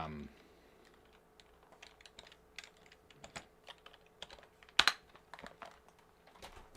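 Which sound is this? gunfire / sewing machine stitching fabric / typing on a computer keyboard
typing on a computer keyboard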